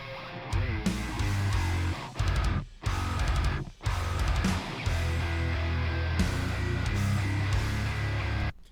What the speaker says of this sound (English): that's the sound of the Eminent Swamp Thing speaker in a mix